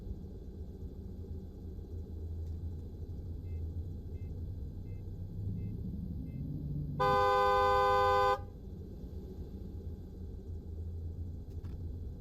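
A vehicle horn in the AirportSim game blares as one steady, loud honk lasting over a second, cutting through a constant low rumble of engine and airport ambience.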